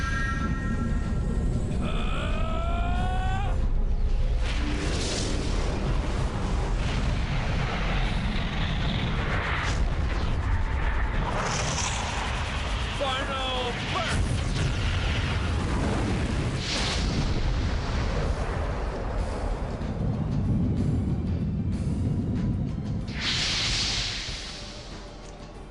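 Final Burst, a powerful magic attack in Legend of Dragoon, unleashes a long roaring eruption of blasts and whooshing effects, loud and continuous for over twenty seconds before tapering near the end.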